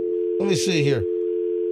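A steady, unbroken telephone dial tone hums through the whole moment before a call to a plumber, with someone briefly speaking over it midway.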